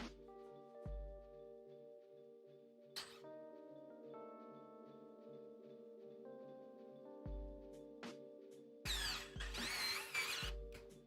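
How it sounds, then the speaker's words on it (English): An electric screwdriver runs in short whirring bursts during a PC build into an AZZA Cast 808 case, with the longest and loudest run near the end over a steady tonal background. "Thank God for electric screwdrivers."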